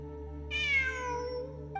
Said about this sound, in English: It really is a cat.